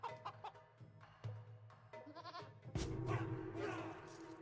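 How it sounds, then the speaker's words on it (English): Donkey braying in an Age of Empires match: loud, strained harmonic cries rise over short clicks and game sounds, strongest in the latter half. "It's a donkey."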